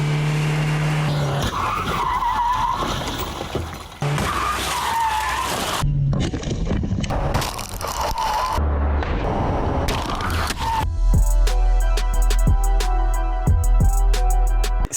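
A Citroën Xsara slams into a Peugeot 106 at 70 km/h. Loud tire screeches and harsh bursts of crash noise come in several separate cuts, then steady music-like tones take over near the end.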